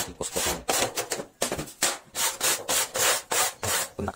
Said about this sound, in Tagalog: Kaya kailangan din natin kuskusin.